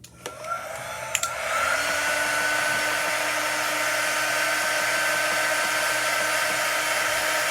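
A hair dryer blows steadily on chalk paste painted onto a Chalk Couture door tag, starting after a couple of brief clicks and then holding a loud, continuous whirring roar to the end.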